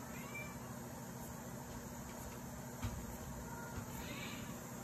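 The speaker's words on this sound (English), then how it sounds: "that is my kitty Adela. She's mad because she's locked out during the making of this video" Adela, an angry cat shut outside a room, gives a few faint, muffled meows from beyond the door against a steady background hiss and hum.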